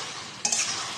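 Pakoras being stirred with kewra paste and a little sugar in a pan, a soft scraping stir that grows louder and brighter midway, with faint sizzling underneath.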